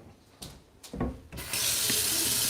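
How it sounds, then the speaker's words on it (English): A paintbrush loaded with acrylic paint is rinsed under a running tap, a few brief knocks and splashes giving way to a steady, close rush of water filling a sink. "I've got to wash it because I need that brush."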